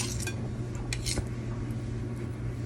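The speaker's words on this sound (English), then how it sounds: "I'm going to take a butter knife, scrape" A butter knife scrapes sticky peanut butter cookie dough off, giving a few light clinks and scrapes against a bowl early on over a steady low kitchen hum.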